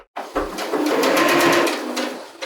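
Sewing machine stitching, then back stitching, a curtain seam on patchwork curtains made from collectable t-shirts: a short burst of close mechanical whirring that starts abruptly, runs steadily for about two seconds and stops.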